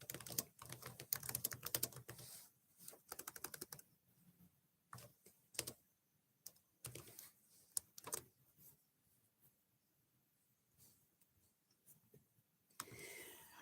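Someone types on a computer keyboard in irregular quick bursts of close clicks separated by short quiet pauses, fairly faint overall.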